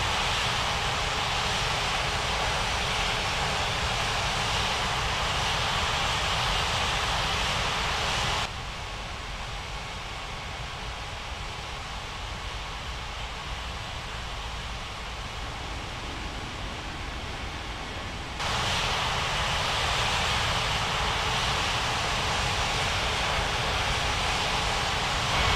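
A jet airliner's engines roar steadily during takeoff in a flight simulation game, a loud, sustained broadband rush that drops briefly to a lower rumble before surging back, with no talk over it.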